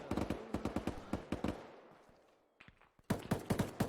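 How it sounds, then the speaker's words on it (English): Close gunfire in the Arma 3 military shooter, a rapid string of sharp shots that trails off into echo, a brief pause, then another quick burst of nearby fire. "Oh, shots close on the northeast side."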